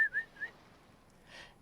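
A bird in a video game whistles three quick bright chirps, then falls quiet before a soft breathy flutter.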